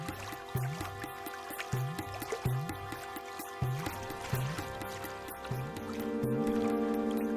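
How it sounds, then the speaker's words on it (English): A babbling mountain stream with repeated bubbling, dripping plops in an uneven rhythm, close and moderately loud, over a steady tonal background. "Few images convey nature's wholesomeness so well as that of a babbling mountain stream."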